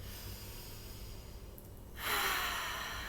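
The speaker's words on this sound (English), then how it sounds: "Stretch up and breathe in." A person takes a deep breath in while stretching the arms upward, a soft steady airy inhale that swells noticeably louder in its final second, with no talking.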